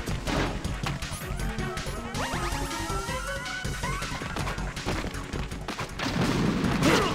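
Rapid bursts of weapon fire and impacts from the video game Metal Gear Solid 2 Substance, dense and loud throughout, with crashing hits and clattering shots layered over a busy game soundscape.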